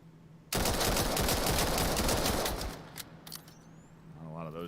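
Rapid gunfire from the VR shooter VAIL in a competitive 1v1 esports round, a dense loud burst of shots that cuts off and leaves sparse scattered cracks while commentary runs underneath.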